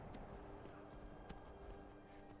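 Horse hooves clip-clopping in a video game, a lost horse walking with light, evenly spaced hoof taps over a constant low background bed, fairly quiet.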